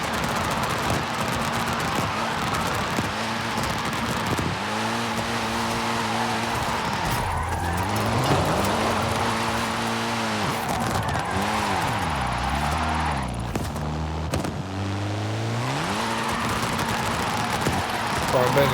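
A Mitsubishi Lancer Evo driven in the video game Forza Horizon 5: the engine revs rise and fall repeatedly through gear changes, sustained and loud, with a person talking over it.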